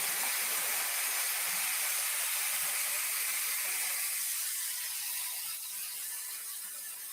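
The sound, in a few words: hair dryer blowing cool air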